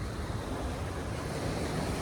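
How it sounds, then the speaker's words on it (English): Tall, intense waves on Lake Michigan make a steady, dense roar of surf mixed with wind buffeting the microphone, constant with no breaks. "those waves are tall and intense"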